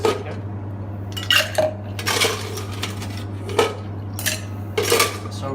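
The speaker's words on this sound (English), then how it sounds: "put some ice cube into the shaker" Ice cubes clatter into a metal cocktail shaker while a strawberry-syrup cocktail is mixed, several sharp clinks and rattles in uneven bursts over a low steady hum, with no one speaking.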